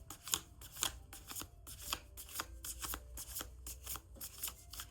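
A deck of tarot cards being shuffled by hand, a steady run of crisp riffling bursts that repeat in quick rhythm, close and clear with no talking.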